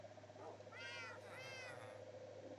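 A cat meows twice in a modded Minecraft game, two clear drawn-out calls about half a second apart over a steady low game hum and background music.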